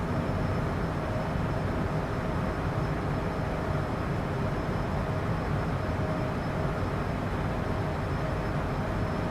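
A CJ4 business jet at climb thrust in Microsoft Flight Simulator 2024 gives a steady, dense broadband engine roar with a faint high whine, constant in level throughout and with no talking.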